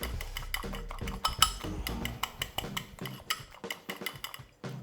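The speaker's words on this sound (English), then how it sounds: "just beat your egg as you normally do" A whole egg is beaten in a bowl for Lithuanian kibinai pasty dough, giving quick irregular clinks and scrapes of a utensil against the dish, fairly close and with no voices.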